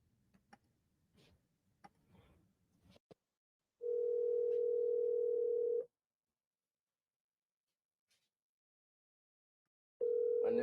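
Steady telephone dial tone on a dead line after the caller hangs up, sounding for about two seconds, stopping, then returning near the end, preceded by faint clicks and handling noise.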